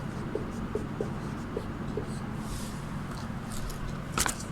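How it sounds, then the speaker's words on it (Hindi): Chalk or marker taps and scratches across a classroom board in soft, intermittent strokes under a low room hum, with a brief sharper scrape near the end. "तो इसमें आम लिखेंगे।"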